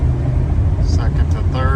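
A 1993 Chevrolet K1500 Z71 pickup shifts from first to second while driving, a steady low engine drone running throughout with a slight change in tone, and someone talking over it.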